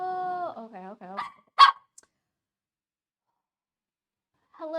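A pet puppy gives whining, yipping cries, then one sharp bark, falls silent, and whimpers again at the end, close and fairly clear.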